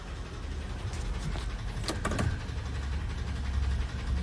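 A Ford F-150 with a 4.6 engine and a misfire runs steadily, with a low rumbling idle throughout and a brief clunk and rattle as it drops into drive. No talk.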